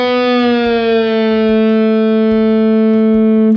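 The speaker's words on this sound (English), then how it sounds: "But we're still gonna bend up a whole step and bring it back down." A single sustained electric guitar note on the D string at the 7th fret, bent up a whole step and brought back down, ringing bright and steady with rich harmonics, heard alone.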